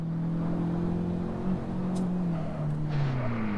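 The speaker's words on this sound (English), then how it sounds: "Oh man, I missed the rev match there." Honda car engine at a spring track event, revving through a downshift with a missed rev match; a steady loud drone with pitch swings, a brief blip and a rising surge near the end, no talk.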